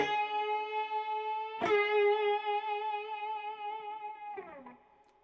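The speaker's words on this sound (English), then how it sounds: "I'm playing with a bunch of distortion, a bunch of delay, reverb, everything on the 9th fret of the B string, and it's just a bend." Electric guitar bend on the 9th fret of the B string through heavy distortion, delay and reverb: a sustained harmonic-rich note with a sharp pick attack midway, then a bend that trails off, played alone.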